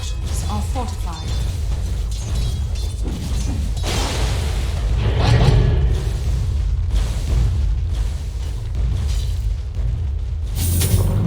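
In a Dota 2 pro match, a Dire turret is destroyed with a loud booming explosion that swells midway and then trails off, layered among other game effects and a caster talking over the action.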